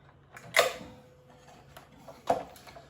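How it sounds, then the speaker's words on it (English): Multi-grips tightening onto a wooden beehive frame held in a jig, giving two sharp creaking clicks about two seconds apart with faint ticks between, close and otherwise quiet. "clamp this frame up"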